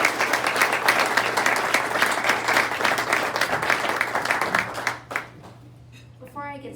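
Sustained audience applause fills a meeting room to welcome a speaker to the podium, steady dense clapping for about five seconds before it tapers off into quiet room tone.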